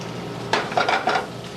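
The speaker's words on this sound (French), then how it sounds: "je fais chauffer un petit peu d'huile d'olive" Olive oil heating in a pan, a sizzle that rises suddenly and then crackles in a few short bursts, quiet and close.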